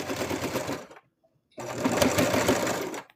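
Back stitching on a plush toy with a sewing machine: a loud close whirring burst, a half-second pause in silence, then a second longer run of stitching that cuts off near the end.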